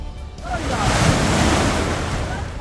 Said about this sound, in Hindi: यमुनानगर में यमुना पूरे उफान पर है।